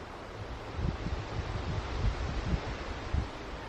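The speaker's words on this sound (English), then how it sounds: "I sit here and I listen to the wind." Wind gusting through a stand of aspen trees at a camp, a steady broadband rush with low rumbling swells and buffeting against the microphone, continuous throughout with no voices.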